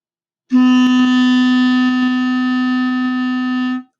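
A single sustained clarinet C note, played on the upper joint alone, held steadily for about three seconds, clear and reedy with a bright tone.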